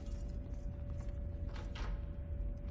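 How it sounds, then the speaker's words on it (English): A door creaking open in the post-apocalyptic role-playing game Wasteland 2, a quiet, drawn-out mechanical creak over a steady low hum. "A door. You've seen many like it."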